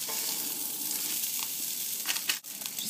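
Burger patties fry in a pan with a steady, even sizzle, close and moderately loud, broken near the end by a few scraping clicks and a brief dip as they are handled.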